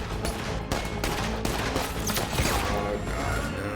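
Gunfire in an episode of the Titans TV series, a dense, sustained burst of shots and crackling fusillade over a few seconds, loud and continuous.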